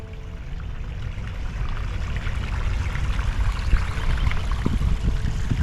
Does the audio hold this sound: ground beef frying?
no